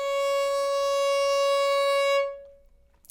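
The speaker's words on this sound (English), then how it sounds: "So C sharp should sound like this." A single sustained violin C sharp, bowed steadily and clearly for about two seconds in a beginner A major scale exercise, then released with a brief ringing decay, heard alone without talk.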